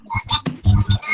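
A frog croaks close up in a few quick, loud, raspy pulses, with no other sound around it.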